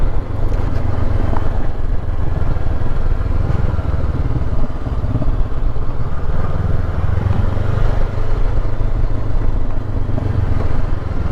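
A motorcycle engine labouring up a steep Lake District pass such as Hardknott or Wrynose, a loud, continuous low drone with wind and road rumble and no let-up.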